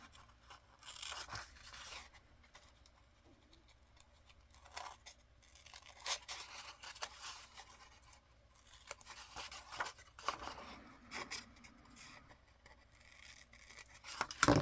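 Scissors snip and cut through paper close to the microphone, giving a series of crisp crunching, tearing cuts in irregular bursts separated by quiet pauses, with rustling paper between them.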